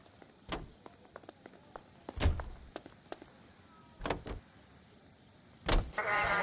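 Car in the video game L.A. Noire: scattered thunks and door-like clicks over a quiet low rumble, with a louder clunk near the middle and a brief whirring burst near the end, no talk.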